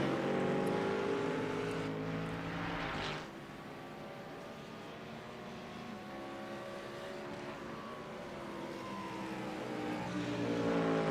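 GT3 race cars roar around Spa-Francorchamps in the iRacing sim, a steady loud engine drone with rising and falling harmonic sweeps as throttle and revs shift, continuous throughout with no talk.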